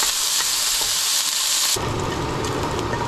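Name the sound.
onion frying in hot oil in a pan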